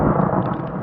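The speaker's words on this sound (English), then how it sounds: "Look, lightning, you see? And thunder." Thunder in a lightning storm on a coastal prairie trail, a loud continuous low rumble that rolls steadily without breaks, heavy and booming with no voices over it.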